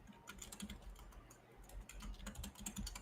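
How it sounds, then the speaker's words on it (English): Furious, rapid typing on a computer keyboard, a dense run of clicking keystrokes that stays close and steady throughout with no talking. "Starts typing furiously."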